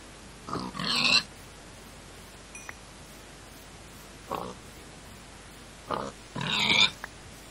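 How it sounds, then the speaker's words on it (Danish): Pigs in the video game Minecraft, during an Ultra Hardcore match, give short nasal grunts in three separate bursts: two paired grunts early and late and a single quick one in the middle, over steady game background noise. "Der er mere gris der."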